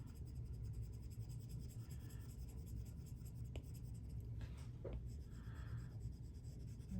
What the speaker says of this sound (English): I'm going to start smudging all of the new charcoal that I put down.